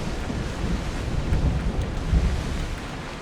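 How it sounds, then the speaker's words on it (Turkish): Stormy wind and surging sea waves in Assassin's Creed Odyssey, a steady low roaring rumble with gusting swells that rise around the middle, no talking. "Ve fırtına çıkmış be."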